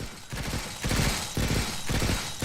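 Defensive turrets in Stranded: Alien Dawn open up in loud, rapid bursts of gunfire, three dense volleys separated by short pauses.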